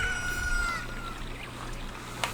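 A Cucco chicken crows in Zelda: Ocarina of Time with a bright, wavering call that fades within the first second, followed by a low steady game hum and a brief click at the end.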